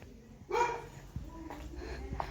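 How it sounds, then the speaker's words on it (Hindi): A dog at a family home gives one loud bark, then a few fainter yips and whimpers in the background. "वैसे कुत्ता इनका बहुत भौंकता है गाइस।"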